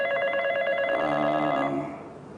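A telephone rings with a single electronic trilling burst lasting about two seconds, loud and close, then fades out, with no talking.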